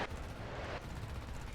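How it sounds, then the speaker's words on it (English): Jet cannon fire in the War Thunder game, a Mirage 2000C-S5 loosing a dense rapid burst over steady engine roar, short and loud. "I might just try to cannon him out."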